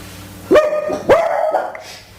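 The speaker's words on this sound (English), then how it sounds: "We have some dog friends with us. They will speak from time to time, and they don't ask for permission." A dog gives two sharp, loud barks about half a second apart, close by, followed by a quieter yip and fading whimper in an otherwise quiet indoor room.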